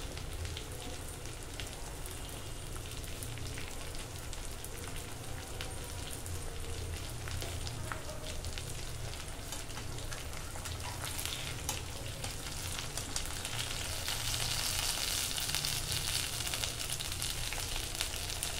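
Fish pieces fry in oil over a medium flame, a steady close crackling sizzle that continues throughout and grows slightly louder toward the end.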